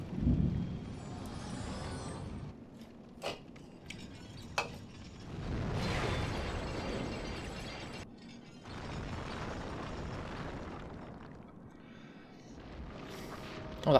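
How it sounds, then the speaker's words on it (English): Thunder and lightning in the Demon's Souls video game, rumbling and crackling in several loud swells that rise and fade across the stretch, with sharp cracking bursts in between and a final sharp crack at the end. "Oh bloody hell, it's thundering and lightning again."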